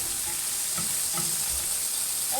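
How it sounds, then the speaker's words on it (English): Sausage browns in a hot pan, a steady bright sizzle with faint stirring and scraping, close and continuous with no talk. "the sausage is just browning up real well here"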